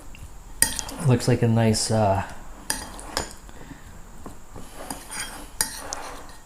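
Utensils scrape and clink against a bowl as broccoli salad is mixed with cheese and mayo, with a few sharp knocks and a short stretch of speech over the stirring.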